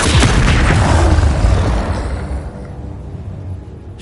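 A Confringo blasting spell detonates in Hogwarts Legacy, a loud, booming explosion that hits immediately and fills the clip before rumbling and fading out over several seconds.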